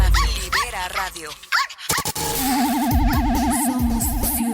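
Dog barks, yelps and whimpers in a Spanish-language radio advertisement, a few sharp calls early on, then a warbling tone and music under a voice talking throughout.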